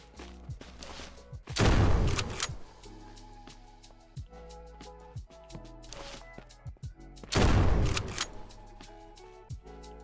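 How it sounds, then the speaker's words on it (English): Gunfire in the zombie survival game Surroundead: many sharp shots in quick runs, with two dense, loud bursts of rapid fire and scattered single cracks in between. "Just making sure I'm shooting him in the head"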